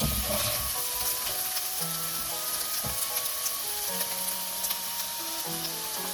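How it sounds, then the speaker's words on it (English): Taro (arbi) pieces shallow frying in a pan, a steady bright sizzle with light stirring scrapes and occasional soft knocks, close and continuous. "So we are going to shallow fry it until it's well coated and done."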